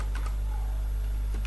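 Quick, light keystrokes on a computer keyboard while web code is being written, a close, steady patter of typing over a low constant hum, with no talking.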